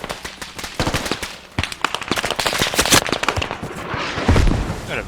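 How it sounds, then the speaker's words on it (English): Rapid bursts of gunfire from an enemy vehicle in a military video game ring out in loud, dense, overlapping cracks and volleys, continuing without a break throughout. "Got a Vic crossed the way shooting at us"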